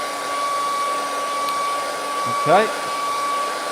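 A hair dryer blows steadily to dry a layer of a watercolor painting of a Thai river scene, a constant close whirring hum with a brief spoken word partway through.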